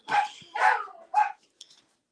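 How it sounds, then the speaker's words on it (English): Several sharp dog barks in a short burst, three loud close yaps in quick succession followed by a fainter, smaller one, in an otherwise quiet indoor room. "Sorry, my dogs are gonna bark."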